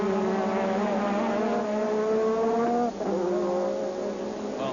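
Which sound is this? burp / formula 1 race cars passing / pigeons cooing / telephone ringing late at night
formula 1 race cars passing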